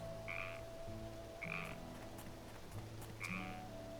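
Repeated frog croaks from a Shin-chan video game, three distinct calls spaced about a second and a half apart over a steady musical background, moderately loud and with no talking.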